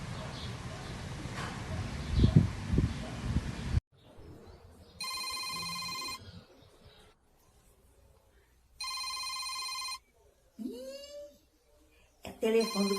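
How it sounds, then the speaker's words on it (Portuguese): A telephone rings in two long electronic bursts separated by silence, clear and close, with voices before and after the rings. "É o telefone do coronel."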